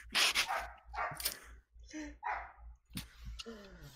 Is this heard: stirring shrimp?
no